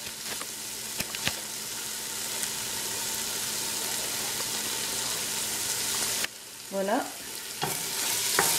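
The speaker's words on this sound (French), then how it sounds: "on va mettre le feu à vif et ajouter de la viande pour la faire revenir très vite" Lamb meat searing in a pan over high heat for a lamb curry, a steady broadband sizzle throughout with brief stirring knocks and a short spoken word near the end.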